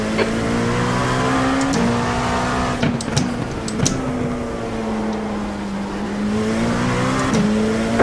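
Race car engines in a sim racing game at Long Beach during an IMSA event: loud, close, high-pitched engine howl with repeated upshifts and revving, as a faster car comes up and passes.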